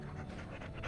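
A dog panting in Dragon Age: Origins, quick breathy huffs in an even rhythm, close and steady over a brief moment.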